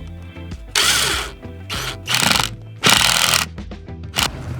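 A power drill drives the first screw into a campervan slat bed, its motor whirring in loud bursts that surge and pause as the screw bites.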